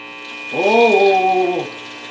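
A Recordgraph Model A film-recording machine's motor runs with a steady electric hum. A person's voice rises and falls over it for about a second.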